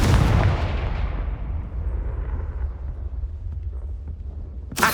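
A booming fire-blast spell cast in the video game Hogwarts Legacy erupts loudly at the start and decays into a long rumbling tail, and a sharp new burst cuts in at the very end.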